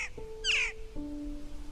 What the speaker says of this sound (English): It might be a Blue Jay.